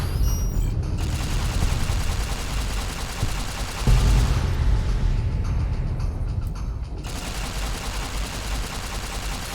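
Gunfire during a fight in Fallout: New Vegas, Lonesome Road: loud, dense bursts of rapid shots and mechanical clatter, a heavy boom near the middle, then more sustained firing.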